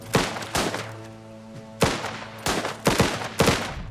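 Gunfire in the video game Last Train Home: several sharp shots in irregular bursts, some paired in quick succession, loud and close over a sustained low musical drone, with no talk.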